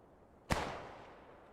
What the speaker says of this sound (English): Sniping in the distance.